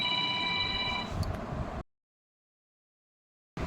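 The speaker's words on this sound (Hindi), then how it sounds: "फ़ोन आदि फ़ोन बज रहा है" A telephone rings in a home, with steady tonal ringing held for nearly two seconds before cutting off abruptly into silence, then a brief return of sound at the end.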